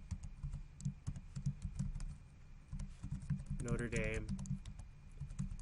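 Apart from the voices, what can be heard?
typing a file name on a computer keyboard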